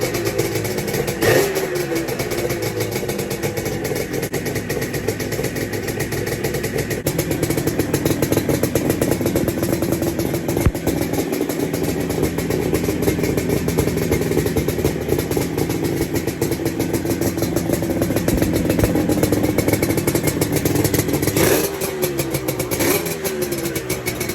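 A Yamaha RD250 motorcycle engine runs steadily on auxiliary fuel, a loud, continuous two-stroke idle with a rattling, buzzy texture and slight rises in revs throughout, no voices.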